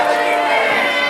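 A wrestling crowd at an independent pro wrestling show roars in a dense, loud, sustained wash of cheering and voices filling the arena.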